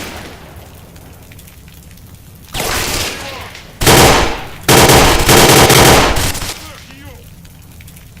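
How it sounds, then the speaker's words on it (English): Bursts of automatic gunfire from the Oblivion Lost shooter game, several loud rapid volleys in quick succession with brief gaps between them, over a low background hum. "Were you trying to shoot through a brick wall?"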